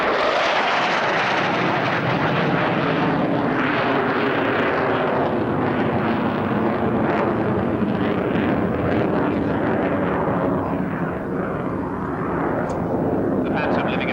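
A Phantom jet makes a high-speed pass at an RAF Abingdon airshow, a loud, sustained roaring rush that holds steady for many seconds, with a commentator's voice running over it.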